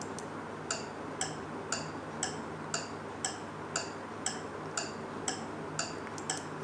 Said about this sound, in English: Some sounds are soft, like tick tick of a clock